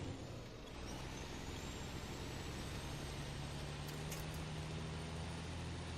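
An 8x8 truck drives through snow in a game, a steady, loud engine drone and rumble that holds throughout, with a faint rising whine and a brief hiss partway through.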